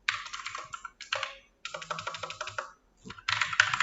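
Fingers type on a computer keyboard in close, crisp bursts of rapid keystrokes, separated by brief silent pauses.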